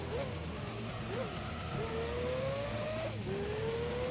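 An LMP Dragon race car in Gran Turismo 3 revs up through the gears on fresh tyres, its engine note climbing steadily with quick shift dips, a continuous loud drone.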